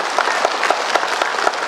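An audience in an indoor hall claps throughout at a joining programme in Agartala, a dense and fairly loud patter of many hands with no break.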